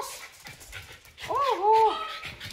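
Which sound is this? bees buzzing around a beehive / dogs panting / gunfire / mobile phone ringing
dogs panting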